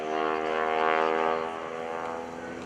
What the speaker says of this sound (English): The sound that you're hearing are the tips of the propeller.